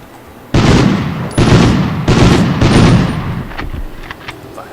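Bursts of heavy gunfire from the video game Medal of Honor come in four loud, close volleys of about a second each, followed by fainter scattered shots as the firing trails off.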